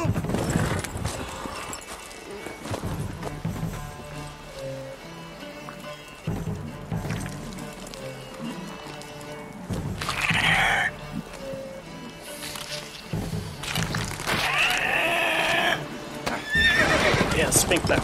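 Horse hooves pounding and a horse neighing loudly several times amid sound effects in the video game The Witcher 3, with people talking and shouting over it.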